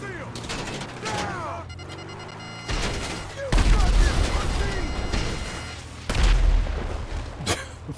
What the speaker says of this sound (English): The most accurate missiles in the game.